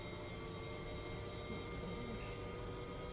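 Bell 412 helicopter engine in the X-Plane simulator spooling as the throttle is rolled back up on the ground, a steady faint whining turbine hum with constant high tonal lines throughout, no voices.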